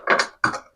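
A wire connection screw on an electrical switch board is tightened, giving two short, close, rasping mechanical turns separated by a brief pause.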